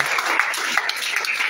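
A congregation applauds at a church service, steady dense clapping filling the space with a few sharper claps standing out, loud and continuous.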